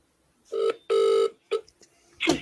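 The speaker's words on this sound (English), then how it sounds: "Going to get him live on speakerphone now." Telephone ringing heard through a speakerphone during a live election night broadcast, two long electronic rings with a short trailing chirp, loud and close, followed by a burst of noise at the end.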